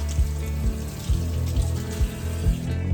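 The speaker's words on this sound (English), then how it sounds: "I'm just gonna wash my hands." Hands washed under a running kitchen tap while brewing kombucha at home: a steady, close rush of water through the whole stretch, with a low rhythmic hum underneath.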